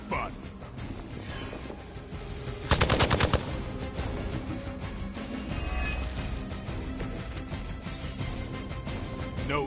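Gunfire in the video game Marvel's Midnight Suns, a loud burst of rapid shots about a third of the way through, set among dense game music and effects.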